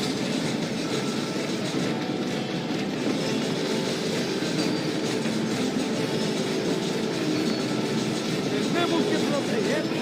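A train rolling along the rails in the video game Red Dead Redemption, a steady dense rumble with rhythmic clatter and faint wheel squeal, continuous and close, with voices talking over it.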